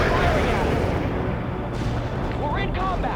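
An artillery fire mission in World in Conflict rumbles as a dense barrage of distant booms and blasts, a continuous heavy roar with voices talking over it in places.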